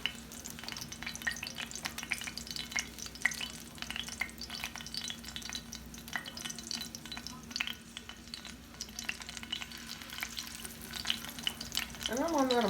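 Small crab and corn fritters fry in a pan on medium-high heat, giving a steady close sizzle and crackle throughout with a faint scrape of stirring near the end.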